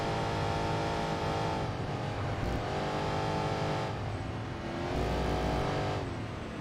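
Toyota race car with a 2JZ engine in Enthusia Professional Racing, a sustained harmonic engine drone rising and falling through revs and shifts, steady and fairly loud, with no voices.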